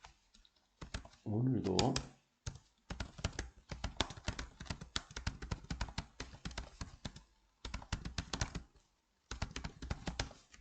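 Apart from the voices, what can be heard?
typing on a computer keyboard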